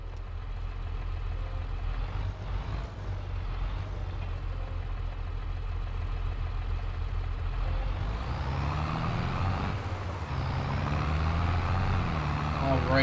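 A leased tractor in Farming Simulator 22 drives along with a steady low engine drone, its pitch rising and shifting near the end.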